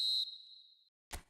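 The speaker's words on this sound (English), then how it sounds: "Referee looks at his watch and blows his whistle" A referee's whistle in the eFootball video game gives one faint, high, sustained blast that fades out, followed by a couple of short soft thumps.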